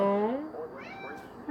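Bandito, a hungry cat, lets out a close meow that bends in pitch and then trails off, with a second fainter cry following.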